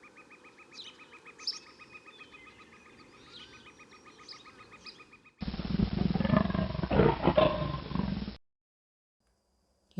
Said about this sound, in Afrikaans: luiperd,